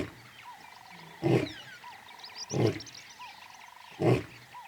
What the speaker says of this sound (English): He announces his presence with a bellowing roar, which can be heard for up to 8 kilometers.